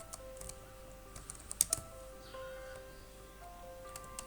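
Keystrokes on a computer keyboard while entering figures into an expense spreadsheet, quiet scattered taps with a couple of sharper clicks near the middle, no voice.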